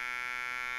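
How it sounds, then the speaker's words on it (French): A homemade NE555 timer buzzer circuit sounds a steady, harsh electronic tone with rich overtones, held loud and unbroken for under a second with no voices. "Et voilà pour le buzzer."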